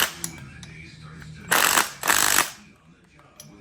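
An impact wrench tightens a nylock nut on a mini excavator quick coupler, firing two loud hammering bursts about half a second each, separated by a short pause, amid workshop clatter.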